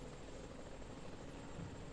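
A Black Hawk helicopter in flight gives off a steady, dense rotor and engine roar that holds even and loud throughout, with no voices.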